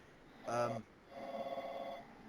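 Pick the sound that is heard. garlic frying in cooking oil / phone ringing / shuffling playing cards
phone ringing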